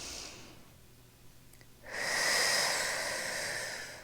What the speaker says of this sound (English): Let's take 2 big breaths together.